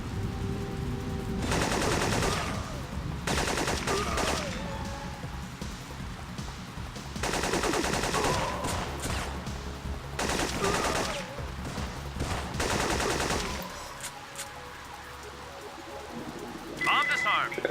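Gunfire in the Syphon Filter video game as guards are shot, several sustained bursts of loud rapid shots separated by brief lulls, with game sounds and a voice between them.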